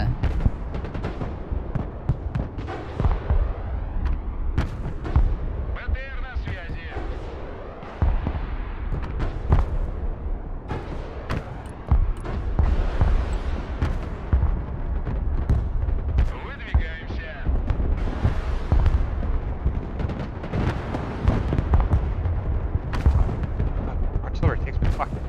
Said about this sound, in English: Let my artillery go on these guys a little bit.